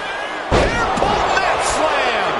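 A heavy slam thuds onto the mat in the WWE 2K25 wrestling video game, a sharp impact followed by a couple of lighter thumps beneath an excited commentator's voice.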